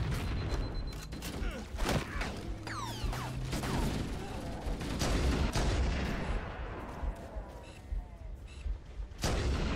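Stationary gun turrets in Halo: Combat Evolved pour out heavy, rapid gunfire, with dense bursts of shots and impacts churning continuously amid game effects, loud and close throughout.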